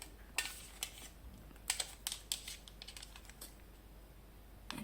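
Small plastic box of disposable lash tweezers being pried open up close: a string of sharp clicks and light taps with quiet rustling between them, no voices.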